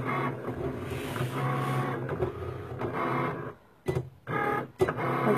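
A Cricut cutting machine loads and cuts iron-on vinyl for a Tardis tablet sleeve, with a steady whirring motor and rapid mechanical rattling. Two sharp pauses of near silence break the run before the machine chatters back on, close and fairly loud.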